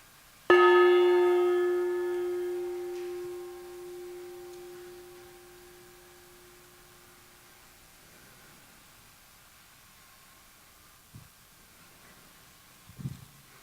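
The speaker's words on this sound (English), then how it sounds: "as I sound our gong" A single gong strike rings out in a meditation session, a bright harmonic tone that swells then slowly decays over several seconds, close and alone, with a couple of faint knocks near the end.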